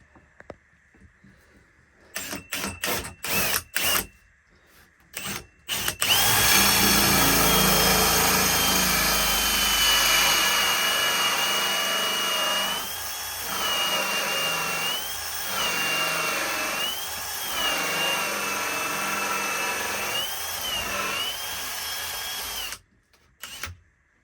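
Power drill boring a pilot hole beside a sink during a boat galley makeover, several short trigger bursts first and then a long, loud, steady whine that dips and rises briefly a few times before cutting off.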